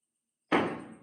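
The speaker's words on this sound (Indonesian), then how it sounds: "Ada suara ketok-ketok cok." A single sharp knock or thud on a door, loud and close, bursting out of near silence and fading quickly with a short resonant tail.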